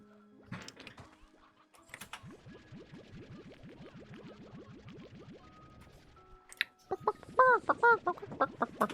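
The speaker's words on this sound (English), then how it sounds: "The chicken noises are the absolute best in this." Chickens in the video game Slime Rancher 2 cluck in a fast, rapid series of squawks, followed by louder, higher, bouncy chirping calls near the end over a faint steady game background.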